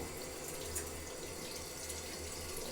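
Water running steadily into a drain that is backing up in a flooded house, a continuous close gush with a low gurgling undertone.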